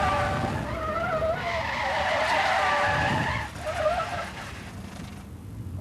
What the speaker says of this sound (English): this is where fire officers come to learn how to drive these 10-ton trucks at almost 70 miles an hour